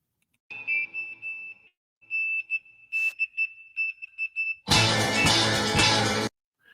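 A short song excerpt carries bursts of clipped, Morse code-like electronic beeps in uneven dots and dashes, then ends in a loud, full musical swell before cutting to silence.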